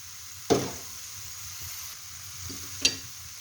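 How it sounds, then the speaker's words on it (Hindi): Almonds, raisins, walnuts and pistachios sizzle as they are stirred and roasted together in a pan for makhandi halwa, with a steady frying hiss and two sharp clinks of the spoon against the pan. "अभी आपने इन सबको अच्छी तरह मिक्स करना और भूनना है"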